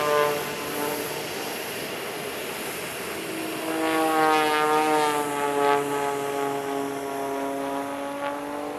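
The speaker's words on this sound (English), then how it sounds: "Now for something completely different, the Bolko B105 and Edge 540 of the Red Bull Air Force." Red Bull Air Force Bolkow Bo 105 helicopter and Edge 540 aerobatic plane passing at an airshow, a steady engine and propeller drone with rising then falling pitch sweeps as the aircraft fly by, moderately loud and without talk.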